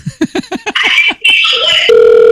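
A telephone sounds loud and close: a rapid series of electronic pulses, then warbling and sliding tones, ending in a steady, sustained single tone.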